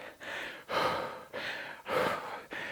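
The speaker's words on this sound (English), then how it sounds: "I breathe" Heavy breathing during a Tabata-style rowing sprint workout, five strong, rhythmic breaths at an even pace, each a loud, close, rushing gasp with brief pauses between.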